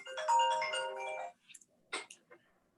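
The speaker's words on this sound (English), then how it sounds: "I had my phone blowing up here" Phone notification alerts going off in quick succession, a sustained melodic chime followed by several short separate pings, fairly close and clear with no talk.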